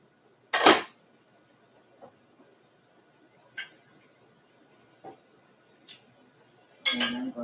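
A metal spoon clinks against a pot or bowl a few times while scooping ingredients for vegan chili, with sharp, isolated taps separated by quiet gaps and a louder scraping clatter near the end.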